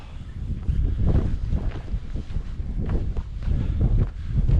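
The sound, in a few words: wind blowing on a country walk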